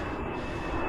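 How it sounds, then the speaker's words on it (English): A propeller or jet airplane passes overhead, a steady, loud, broad engine roar that fills the whole moment without a break. "Sorry about the plane."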